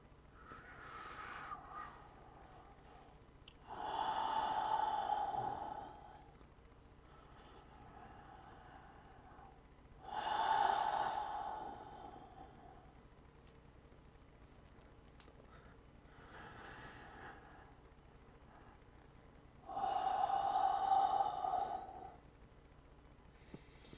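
Deep yoga breaths, three long, slow, airy breathing sounds spaced several seconds apart, close but soft, over a quiet room background.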